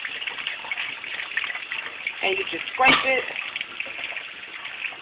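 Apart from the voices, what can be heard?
cold tap water running over a fish while cleaning it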